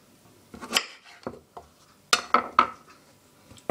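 A bowl handled while making fruit salad: several clinks and knocks of dishware and utensils, close and fairly loud, coming in irregular clusters with quiet gaps between, no voices.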